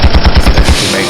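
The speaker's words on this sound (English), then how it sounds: "Gunshots for the biggest hoe in the room." Gunshot sound effect: a rapid burst of about eight loud, close shots in quick even succession, like automatic fire, then a short fading tail.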